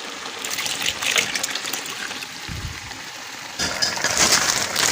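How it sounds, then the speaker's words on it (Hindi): Milk poured into a pot of carrot halwa after the water has cooked off, a steady hissing trickle that runs throughout and grows stronger near the end. "पानी खुश्क हो गया, अब हम दूध ऐड करेंगे।"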